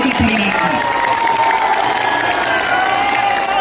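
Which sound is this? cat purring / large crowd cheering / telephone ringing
large crowd cheering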